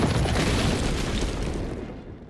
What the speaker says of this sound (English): Freeze is left with no other choice but to destroy his life's work and detonate his generator to save Batman and Nora